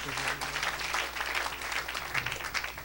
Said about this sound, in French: Tu peux acclamer mieux que ça.